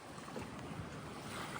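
Waves wash steadily in the lagoon at Bora Bora beside an overwater suite, a faint continuous surf rush mixed with wind noise, and no voices.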